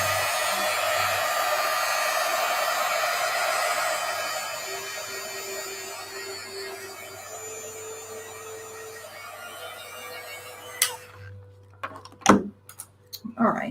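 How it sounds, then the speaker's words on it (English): Hair dryer blowing steadily over a watercolor painting, a loud continuous whoosh with a low hum that cuts off abruptly near the end, followed by a few brief clicks and knocks. "let me blow dry everything so I can continue working on the next layer"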